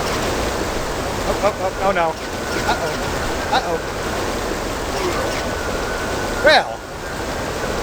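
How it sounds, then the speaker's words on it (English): Steady, loud rushing water fills a dungeon in Lands of Lore: Guardians of Destiny, a constant wash of noise that runs the whole time while someone talks briefly over it. "I can't hear you because of all the water."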